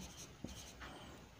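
Faint scratchy strokes and taps of marker or chalk writing on a classroom board during a chemistry lesson, short irregular marks close by with no speech.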